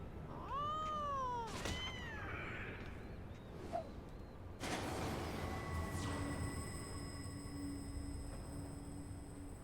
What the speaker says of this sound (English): What is a metal making kitten doing?